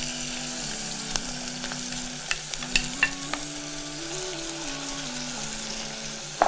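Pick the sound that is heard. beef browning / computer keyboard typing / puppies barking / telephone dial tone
beef browning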